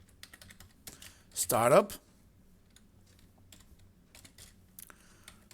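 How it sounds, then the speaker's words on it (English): Commands typed on a computer keyboard in quick clicking bursts with pauses between them, close and fairly quiet, broken once by a brief spoken word. "I'm going to come here and type erase"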